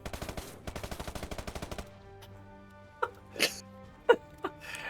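A Thompson submachine gun fires in the Gates of Hell war video game, a rapid burst of about fifteen evenly spaced shots lasting under two seconds, followed by a few separate louder game sounds.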